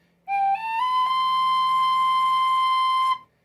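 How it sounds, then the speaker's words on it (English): A single second-octave tonic note on a tin whistle trimmed from B-flat toward C swells in, slides slightly upward, then holds steady and clear for about three seconds before stopping. "if I play the second octave tonic note for the whistle now"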